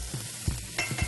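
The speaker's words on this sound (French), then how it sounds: "Il faut que ça sonne comme ça quand tu mets tout dedans." Ingredients for pea soup poured into a hot pan, short bursts of sizzling and sputtering with a few soft knocks, close and fairly quiet over about a second.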